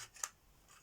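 A single quick snip of scissors cutting paper while making a bird-themed card, one crisp close click, faint and brief in a quiet room.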